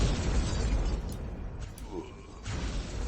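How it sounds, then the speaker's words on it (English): Video game explosions rumble broadly and continuously at close range, with a dip in the middle and a renewed burst near the end, under some background talk. "So this explosion just killed one of our team members"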